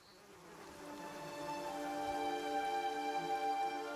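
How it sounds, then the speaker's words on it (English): Steady droning buzz of insects among the trees in the video game Pillars of Eternity II, a dense whine of overlapping tones that swells slightly and holds on with no talking. "The only answer you hear is the buzzing of flies from the trees."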